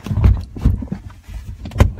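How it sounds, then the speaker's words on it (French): A door swung closed, its low thumps and rattling handling noises close by and fairly loud, ending in a firmer knock, with no voices. "Alors je ferme la porte."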